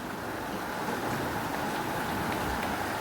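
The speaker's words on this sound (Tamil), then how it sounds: "மழை பெய்யுது" Steady rain falls outdoors, an even, continuous hiss that holds at the same level throughout with no voices.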